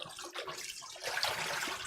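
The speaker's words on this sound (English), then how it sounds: "Get these rinsed." Tap water runs in a kitchen sink while measuring cups are rinsed under it during Thanksgiving dinner cooking, a steady close splashing that swells louder partway through, with no talk over it.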